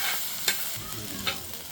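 Browned onions sizzle steadily in a pan while grated tomatoes are stirred in for an Indian matar paneer sabji. A spoon scrapes and taps twice against the pan over the continuous frying hiss, close and fairly loud, with no talk.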